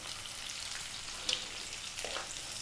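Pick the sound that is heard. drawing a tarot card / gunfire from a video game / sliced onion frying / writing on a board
sliced onion frying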